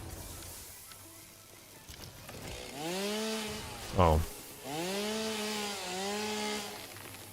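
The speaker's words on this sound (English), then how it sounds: "I'm going to get the chainsaw out." A chainsaw in the video game Satisfactory revs in two bursts around a short sharp crack, its whining engine tone rising and falling, with background game noise throughout and a brief spoken exclamation.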